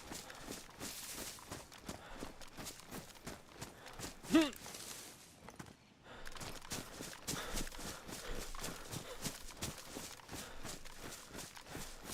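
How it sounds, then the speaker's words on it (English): Player footsteps in the video game DayZ, a steady run of soft rhythmic steps that swells louder, drops away briefly and returns, fairly faint and without talk. "Footsteps faded in and then back out."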